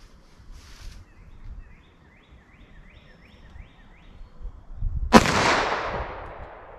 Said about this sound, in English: I'll do 4 rounds in each particular handgun